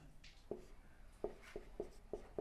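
Chalk or marker writing a formula on a classroom board, a string of sharp faint taps and scratchy strokes at an uneven rhythm, quiet and close, with no talk.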